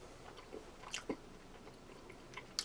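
Soft wet chewing of a ration meal, a few quiet bites and squishy mouth sounds spread over a couple of seconds, close to the mic with no talking.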